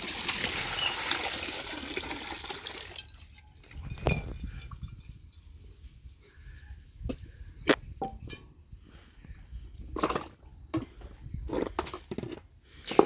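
Running water while something is washed outdoors: a rushing flow at first, then scattered splashes and trickles with pauses, close and moderately loud.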